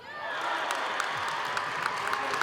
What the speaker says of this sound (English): the crowd across the way and in front of us on their feet cheering for the Rangers